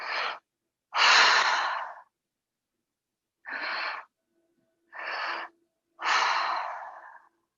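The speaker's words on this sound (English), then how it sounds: "Make these last breaths deep." Five slow, deep breaths drawn and released during a guided breathing exercise at a moon circle ceremony, each a breathy rush lasting about a second, spaced by short silences, close and alone without talk.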